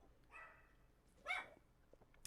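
Cookie, a pet dog in a bedroom, gives two faint short barks a second apart, the second sharper and louder, over quiet room tone.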